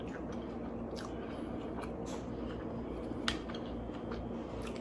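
Someone chews a bacon-wrapped chicken taquito up close, quiet crunchy bites and squishy chewing repeating irregularly over a soft background hum.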